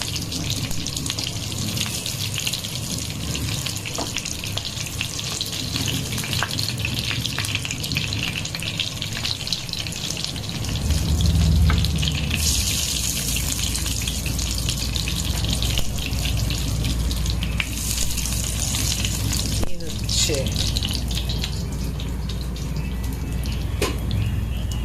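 Mutton gola kabab sizzling in a pan over low gas, a steady loud frying hiss with bubbling and crackle running throughout, growing slightly fuller partway through, with no talking.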